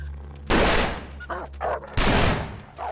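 Two sharp, loud rifle shots about a second and a half apart in The Long Dark video game. Each is a sudden broadband crack that decays into a short echo, with brief noises between them.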